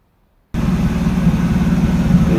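Inline-six engine of a 1966 Ford Mustang starts abruptly after silence and settles into a steady, loud, close idle with an even low rumble.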